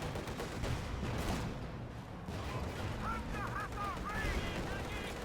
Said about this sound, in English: Oh wow, we actually saw the zeroing artillery.